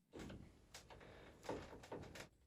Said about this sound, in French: Je m'excuse pour ma chaise qui grince.